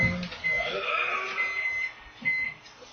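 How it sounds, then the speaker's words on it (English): A timer alarm rings with a shrill electronic beeping tone that wavers and repeats over about three seconds, fairly loud and close, with no talk over it. "Let's turn on this alarm here."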